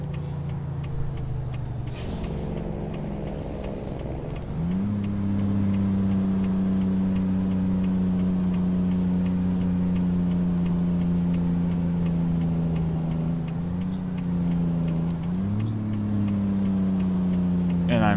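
A truck engine droning steadily in a driving video game, with a high air-brake hiss and whine at the start, pitch rising as the engine revs and shifting midway, loud and continuous.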